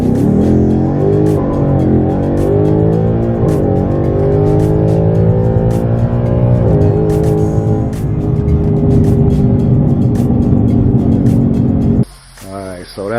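A Mustang GT 5.0 Coyote V8 roars loudly from inside the cabin, the engine note climbing steadily through a hard pull before easing off near the end, its drone continuous and close.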